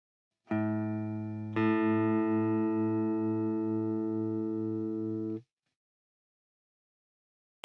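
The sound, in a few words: detuned lower E string beating against open A string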